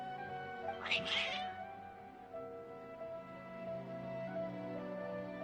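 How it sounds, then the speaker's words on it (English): Cats meow together in a short, intense burst inside the Genshin Impact game world, set over a steady layered musical drone. "Your cats seem pretty worked up."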